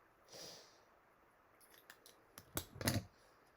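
Scissors snip through card in a few short, crisp cuts, with a soft rustle first and then two louder, closer snips near the end, with no talking.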